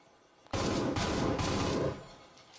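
Gunshots ring out in a Breachers VR match, a sudden loud volley of rapid shots lasting about a second and a half before cutting off, leaving quiet room tone with no voices.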